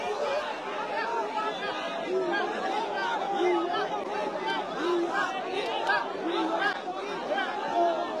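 Dhaka University students gathered in a protest crowd, a dense babble of many voices shouting and chanting slogans in uneven rhythmic bursts, fairly close and continuous throughout.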